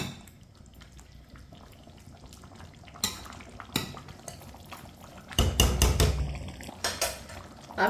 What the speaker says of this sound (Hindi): आंच पर 2 मिनट के लिए चम्मच चलाते हुए पका लेंगे